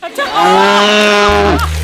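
A loud, drawn-out buffalo moo used as a comedy sound effect, one long bellowing call that bends in pitch and then cuts off abruptly, heard alone without speech.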